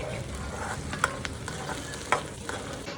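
Chopped onions fry in a pan with a steady, close hiss of sizzling, broken by a few sharp clinks and scrapes of stirring, and no voices over it.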